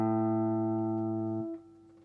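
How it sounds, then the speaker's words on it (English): A single guitar note, the A on the fifth fret of the low E string, rings steadily, then is cut off abruptly about halfway through, leaving quiet. "the 5th fret of the E string sounds this A"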